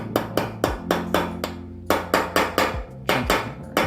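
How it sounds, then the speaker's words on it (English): Light hammer taps on a bicycle part during a rebuild of a 1979 Raleigh Grand Prix, about a dozen sharp, close metallic strikes in an uneven rhythm with short pauses and no talk. "Gentle hammering"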